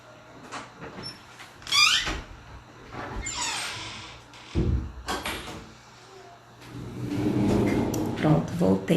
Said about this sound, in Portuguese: Só um minutinho que eu vou fechar a porta aqui.